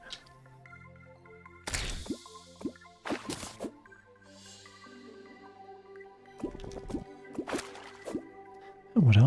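An item dropped into water in Terraria, with a few short watery plops and drips standing out among soft game tones and chimes, close and clear.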